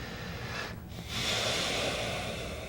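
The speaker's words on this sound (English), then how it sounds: "I'm going to just try to breathe and relax through it." A person breathes deeply and slowly while holding a stretch, a close, steady airy exhale followed by a fuller inhale, with no talking.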